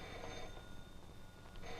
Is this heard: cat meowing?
no